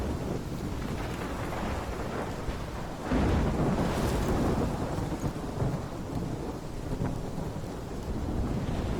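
Thunderstorm in the video game Life Is Strange: continuous heavy rain and wind roar with a louder rumbling thunder surge about a third of the way in, sustained and dense throughout with no talk.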